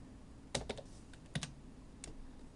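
Quiet typing on a computer keyboard at close range, a few short bursts of crisp key clicks separated by pauses, with no voices.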